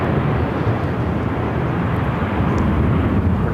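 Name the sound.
American Airlines A319 jet departing Phoenix airport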